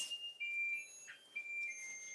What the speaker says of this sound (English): Turn off the timer